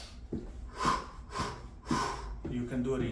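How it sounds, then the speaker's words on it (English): Deep exercise recovery breaths drawn all the way in and pushed all the way out, a close, audible rhythm of about four inhales and exhales in quick succession. "You can breathe all the way in, all the way out."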